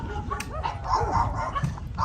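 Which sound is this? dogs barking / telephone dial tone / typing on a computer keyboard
dogs barking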